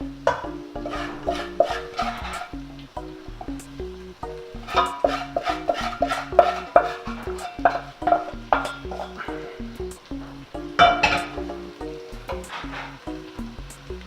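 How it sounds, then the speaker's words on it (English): Garlic and ginger mixture stirred into sizzling tomatoes in a pan, a steady run of spoon scrapes and clinks against the pan over continuous frying sizzle, close and busy throughout. "add the garlic and ginger mixture into this tomato mixture"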